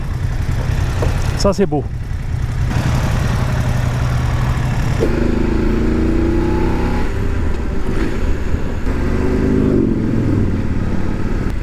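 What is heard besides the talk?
Ducati motorcycle engine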